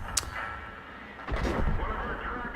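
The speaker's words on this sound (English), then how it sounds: "So the artillery is now blind shotting us." Artillery fire in World of Tanks, heard as a distant crack early on and then a heavier muffled boom with rumbling aftermath, fairly faint overall.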